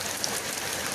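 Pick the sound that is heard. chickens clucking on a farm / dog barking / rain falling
rain falling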